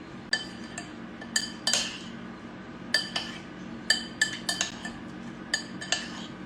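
A utensil clinks against a bowl while seasoned shrimp with Old Bay and Mrs. Dash are mixed, in a string of sharp, close metallic taps and scrapes at an irregular rhythm.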